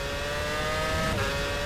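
Formula 1 car engine from 2006 in rFactor at Imola, boost turned up down the straight: a steady high-pitched racing engine drone holding one tone, loud and continuous, dipping slightly near the end.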